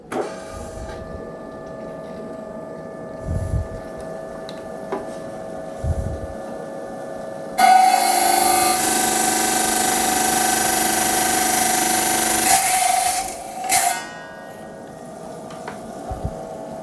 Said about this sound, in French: je vais les couper sur cette machine pour enlever le surplus de roche